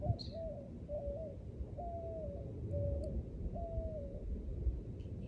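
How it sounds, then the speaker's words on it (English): A dove or pigeon coos outdoors in a repeated series of soft, low calls at a steady rhythm, moderately distant over faint ambient background noise. "That dove? Isn't that lovely? It's a dove or a pigeon?"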